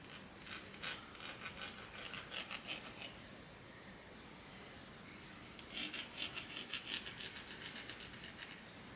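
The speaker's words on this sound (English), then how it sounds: "So now I will mark it up and grind away this part." A power grinder rasps away part of a Kydex sheath in bursts, a close, gritty abrasive scraping that pauses midway and then resumes in uneven pulses.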